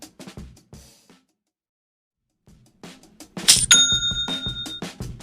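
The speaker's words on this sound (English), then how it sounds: "It's the notification of a new sale on Shopify." A bright ding-like chime rings out sharply for a new Shopify sale, its tones ringing on briefly after some muffled sounds and a stretch of near silence.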